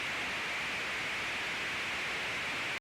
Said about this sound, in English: It's just like white noise